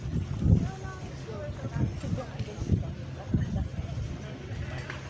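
Outdoor wind gusting into a microphone, producing heavy low rumbles and buffeting thumps in uneven waves, with a voice talking faintly underneath.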